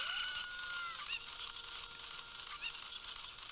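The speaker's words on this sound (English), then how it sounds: "I'm going to grab this chicken." A cucco chicken in Zelda Ocarina of Time squawks in a few short, nasal game clucks and honks spread across the clip, heard over a steady background music bed with no talking.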